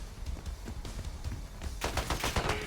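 Rapid gunfire from Call of Duty: Black Ops 6 plays over steady background game noise. Scattered shots run through the clip, then a dense burst of automatic fire comes near the end, moderately loud and continuous.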